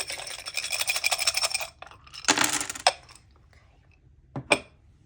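Scrabble tiles rattled and clacked together in a container, a long vigorous shake, a pause, a second burst, then a final short clatter, close and alone.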